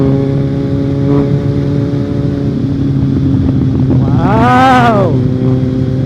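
A Kawasaki Z1000 big bike rides at night with a steady, loud engine drone and harmonic hum, then briefly revs up and drops back around the fifth second, with wind rush throughout.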